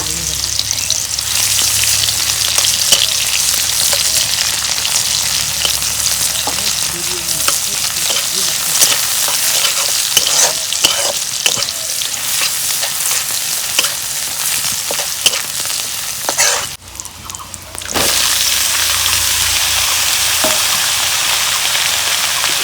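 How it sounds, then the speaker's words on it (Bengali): Chopped onions sizzling in hot oil for a Bengali fish curry with eggplant, tomato and potato, a dense steady frying hiss with occasional stirring clicks and a short quieter dip near the end. "গরম হচ্ছে, আমি পেঁয়াজ কুচি দিয়ে দেবো"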